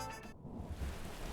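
Steady rain with a low thunder rumble from a visual novel storm effect, a brief dense wash of falling drops under a deep rolling boom.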